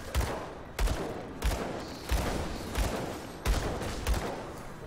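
Gunfire aimed at enemies in the action RPG Grim Dawn, with loud, regularly spaced shot bursts roughly every half second over a constant noisy combat background, and no speech.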